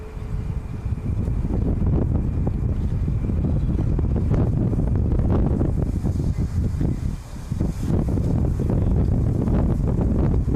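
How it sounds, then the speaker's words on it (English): Strong, cold wind buffets the microphone at an airbase, a continuous loud low roar with gusty surges and a short lull midway, close and unbroken. "The wind is really biting"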